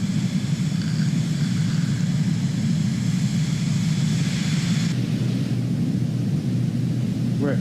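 Steady loud cabin drone of a Cirrus Vision Jet G2 in flight in Microsoft Flight Simulator 2020. A deep, even engine rumble with a whining hiss holds throughout, and the upper tones drop away partway through.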